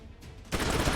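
Gunfire in the tactical video game Troubleshooter, a burst of shots fired over half cover, breaking out abruptly midway after a quiet stretch and continuing as a loud, dense volley.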